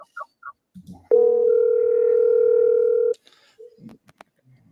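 A steady telephone tone sounds for about two seconds after a call is dialed, one loud unbroken electronic pitch with faint clicks and short bursts of phone-line audio before and after.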